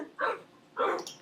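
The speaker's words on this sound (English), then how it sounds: "Get out, dog! Get out!" A dog in the Minecraft video game barks twice, two short, evenly spaced yips heard up close and alone against a quiet background.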